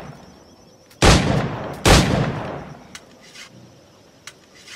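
Two loud, sharp gunshot blasts from a multi-barrel firearm in the video game Assassin's Creed IV: Black Flag ring out about a second apart, each trailing off into a short decay, followed by faint scattered clicks.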